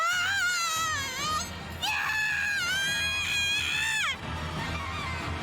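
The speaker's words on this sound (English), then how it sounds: "The nurse screamed and fell to the ground." A nurse in the visual novel Chaos;Head Noah, slashed across the face with a knife, lets out long wavering high screams in two drawn-out bursts, loud and close, over a low rumbling backdrop.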